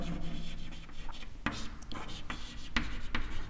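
Marker or chalk scratches across a classroom board, short rubbing strokes and taps in an irregular rhythm, close and moderately loud, with a voice speaking lightly between strokes.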